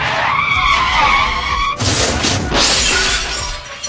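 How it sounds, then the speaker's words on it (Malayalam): A car skids and crashes into a paddy field: a loud, harsh skid gives way abruptly to a sharp, shattering impact and noisy debris, with no voices. "വളഞ്ഞു പുളഞ്ഞു വന്ന കാറ് നേരെ കണ്ടം വഴി നെല്ലും കൊയ്ത് വയലിൽ പോയി ലാൻഡ്"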